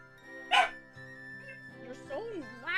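A pet dog barks once sharply up close, followed by softer whimpering yips, while a person talks over and around it.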